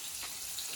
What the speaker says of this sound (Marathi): एका बाजूला जे आहे ते मच्छी तळतोय सचिन